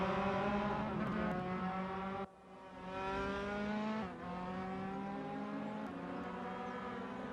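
Race car engines in the RaceRoom racing video game as the cars brake into the first corner, a steady loud harmonic drone with two abrupt downshift dips.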